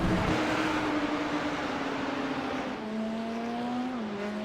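GT3 race cars racing at the Nürburgring GP, engines droning loudly with shifting pitch as the cars run side by side, a gear change dropping the tone partway through.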